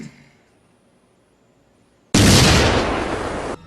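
An explosion goes off in a toy store scene from the film Child's Play, a sudden loud broadband blast that bursts in after near-silence and sustains a roaring rumble to the end.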